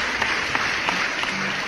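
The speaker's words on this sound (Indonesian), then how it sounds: "Tepuk tangan dulu guys." An audience at a talk gives a short burst of steady applause, a dense wash of many hands clapping at moderate distance and moderately loud.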